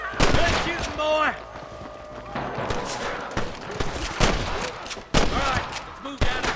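Dense shootout gunfire in the Western video game Red Dead Redemption, with rapid overlapping shots and sharp cracks over shouting voices and talk throughout.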